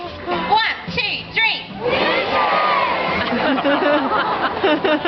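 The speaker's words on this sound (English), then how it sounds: "I want everybody to yell out whiskers and watch Maddie's face." At the Taronga Zoo seal show, the crowd yells a single word in unison, a loud burst of many voices that swells into sustained cheering and excited shouting.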